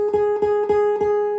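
A single guitar reference note plucked on the 2nd string at the 7th fret rings out cleanly, struck several times in a steady rhythm. Each attack is followed by a sustained, bright tone, close and clear.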